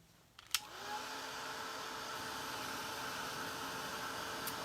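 A hair dryer runs steadily after a brief click, blowing to dry paint on a gingerbread man stocking, a constant loud whooshing hiss with a faint whine that lasts to the end.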